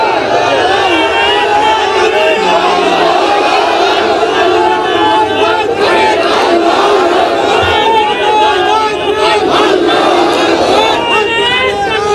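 A large crowd at an Islamic ijtema gathering in Raiganj, Sirajganj shouts the takbir chant together, loud and continuous with overlapping voices throughout.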